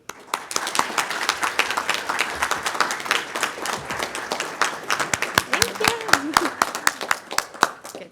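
An audience at a youth human rights awards ceremony gives Mayor Bruce Teague steady, dense applause, with many hands clapping close and loud and a voice briefly heard near the end.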